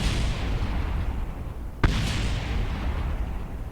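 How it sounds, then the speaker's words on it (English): A spacecraft explodes while attempting a landing in the game Kerbal Space Program, one sharp loud blast cutting through a steady engine rumble, followed by a brief crackling burst that fades back into the continuous roar. "I can't do a successful landing without some sort of explosion"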